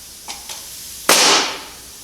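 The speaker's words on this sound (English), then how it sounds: "Grab the nail gun. And just put a couple in there." Two faint snaps of a nail gun driving nails into wood, then a single loud, sharp pneumatic bang with a hissing decay, close by and with no talk over it.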